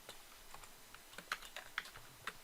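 Fingers type a short burst on a computer keyboard, with quiet, close, irregular key clicks and a few sharper presses.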